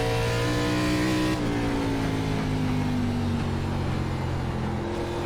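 An ARCA race car engine in iRacing at North Wilkesboro Speedway drones loud and close, its pitch sliding gradually lower through a gear change before briefly climbing again near the end.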